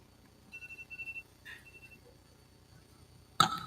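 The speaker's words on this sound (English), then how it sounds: "As the timer goes off, you are spot on." A debate timer at a summit going off: a short series of quiet electronic beeps, then a few fainter tones, with a brief louder knock near the end.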